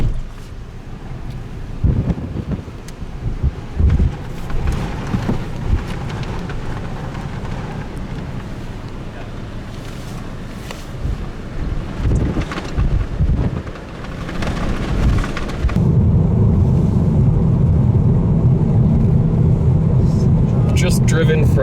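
Strong storm wind buffets a car during a storm chase on the plains between Burlington and Cheyenne Wells, a steady loud roar with gusts, growing heavier near the end, with occasional talk.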